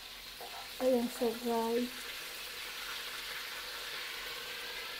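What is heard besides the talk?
frying marinated milkfish (daing bangus) in oil, splattering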